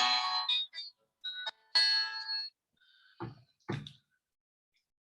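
A phone rings with an incoming call, giving a repeating electronic ringtone in short tonal bursts with gaps between them, fairly close and alone without talk.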